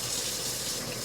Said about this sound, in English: the first thing I'm going to do is wash my hands,